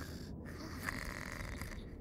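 Baby boy snoring peacefully in his cot, a steady, soft rasping breath that carries on continuously, close and fairly quiet, with no talking.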